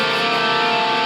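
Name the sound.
electric guitar chord with the open A string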